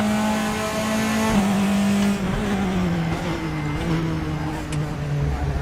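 A Praga R1 race car on a flying lap at Donington in RaceRoom screams at high revs, then its pitch drops in stepped downshifts as it brakes, with a loud, close engine note throughout.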